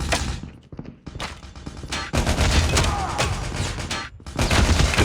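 Close-range gunfire in the video game Call of Duty: Mobile, loud rapid bursts of shots with brief pauses between volleys.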